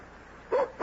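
A dog in a radio drama gives two short barks or yips, close and fairly loud, spaced apart against a quiet background.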